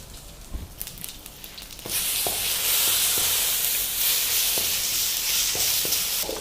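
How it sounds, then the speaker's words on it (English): Curry leaves, a red chili and other tempering spices crackle and sizzle in hot oil for a sambar, a soft start giving way to loud steady frying hiss punctuated by sharp pops. "now let's switch off the gas because all the ingredients are crackling"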